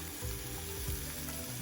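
Garlic and onion sizzle in a Dutch oven, a dense, steady frying hiss close up, with faint stirring and pot noises underneath and no talking.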